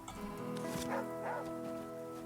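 A dog in the video game The Flame in the Flood lets out a couple of short barks and yips over steady, tonal background music.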